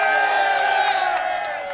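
A crowd at a rally cheering and whooping together, a loud dense roar of many voices held for a moment before easing off slightly at the end.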